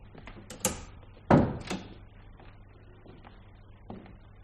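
A door shuts in a quiet room in a French radio drama, with a firm knock-like thud and a couple of softer clicks around it, heard close and alone.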